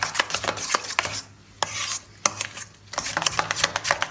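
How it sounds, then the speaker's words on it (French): A spoon's back presses and scrapes hard-boiled egg yolks and tuna together in a bowl, a series of quick close scraping strokes with a short pause midway. "Avec le dos de la cuillère, vous finissez en fait d'incorporer les jaunes d'œuf"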